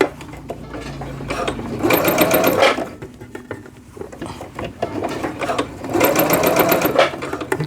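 A sewing machine stitches stretchy jogger fabric in two loud, steady motor bursts of about a second each, separated by quieter handling of the cloth and faint mechanical clicks.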